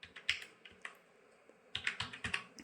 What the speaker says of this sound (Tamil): அந்த ஓட்டர் ஐடி கார்டு நம்பரை கரெக்டாக டைப் பண்ணிக்கோங்க